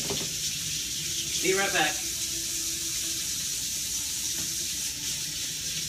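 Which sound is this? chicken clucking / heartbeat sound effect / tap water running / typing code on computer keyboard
tap water running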